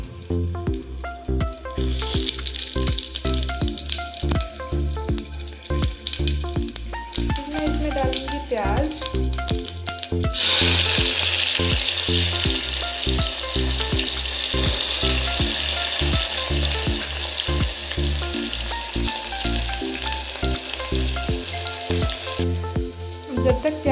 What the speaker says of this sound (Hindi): तेल गर्म कर लिया था और मैंने इसमें मिर्च डाल दी। अब मैं इसमें डालूँगी साबुत जीरा